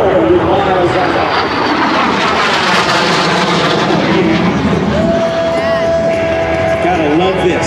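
A Sea Harrier jet flies at the Langley AFB airshow, flown by Art Nalls, a loud, continuous roaring engine with a shifting whine. An announcer's voice talks over it through the whole stretch.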